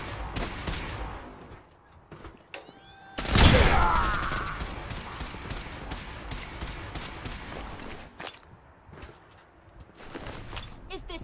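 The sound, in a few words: gunfire in the video game Fallout 4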